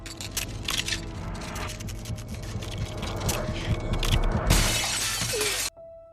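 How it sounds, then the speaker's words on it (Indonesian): A toilet mirror in the film Carrie shatters into glass, a loud crashing burst near the end that follows a dense rumbling stretch of film score and ambience, then cuts to quiet. "Dia lalu menatap kaca toilet dan kaca itu pun hancur."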